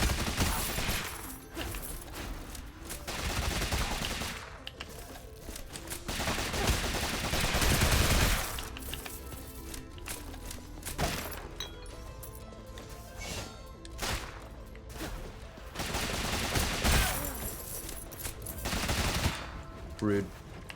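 Gunfire from a gun in the video game Rogue Legacy 2 crackles in repeated bursts of sharp shots, loud and close, with brief lulls between volleys.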